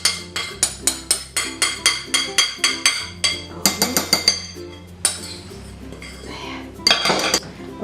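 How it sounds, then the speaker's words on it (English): Eggs are beaten in a bowl with a utensil for a chocolate fondant, giving a quick, steady run of bright metallic clinks against the bowl. The strokes are close and loud, speeding into a denser clatter, then trailing off in a few looser taps. "mix my eggs a bit"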